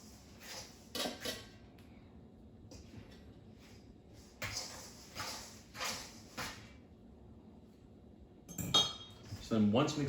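Utensil clinks and scrapes against a mixing bowl as Irish soda bread dough is stirred, several short clattering bursts spread over the clip with quiet gaps between.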